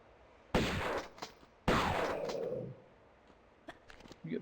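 Two loud, sharp shotgun blasts in Tomb Raider 1 Remastered, about a second apart, each leaving a short decaying tail, with softer clicks and thumps after.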